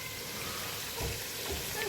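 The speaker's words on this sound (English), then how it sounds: "I will fry again like 30 minutes or 45 minutes." Fatty pork frying in a pan, a soft continuous crackle and sizzle at low level with a couple of slightly louder bubbling swells.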